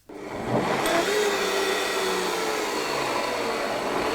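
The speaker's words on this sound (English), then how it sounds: "and then it's just blend till smooth" A kitchen blender whirs through a thick rice milk waffle batter, starting abruptly and holding a loud, steady broadband roar for several seconds with a slight shifting pitch as the mix thickens.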